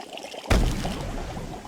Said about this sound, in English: Time to get pouring.